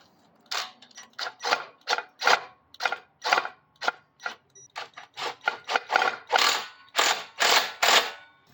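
Bolts are tightened on a 1968 Tote Gote 770 minibike frame: close, bright ratcheting clicks in short bursts, around twenty strokes with brief pauses between them, and no talking.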